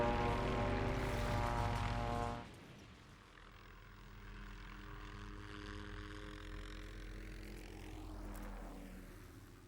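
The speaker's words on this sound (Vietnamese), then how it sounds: "không quân đang bay thử nghiệm máy bay chiến đấu Phét mới mua" A newly purchased fighter jet on an air force test flight, roaring loudly at first, then cutting off abruptly into a quieter, sustained drone that rises into a sweeping pass near the end.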